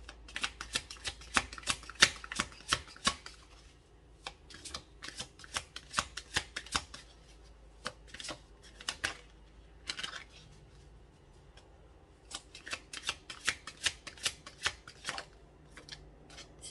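Cards being shuffled and drawn in quick bursts of crisp, close riffling and snapping, broken by brief pauses, with no talking.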